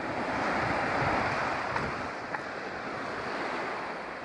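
Waves wash continuously onto the Lake Michigan shore at Wilderness State Park near Mackinaw City, a broad steady surf roar mixed with wind buffeting the microphone and a couple of faint clicks.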